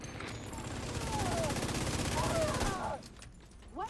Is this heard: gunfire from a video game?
yes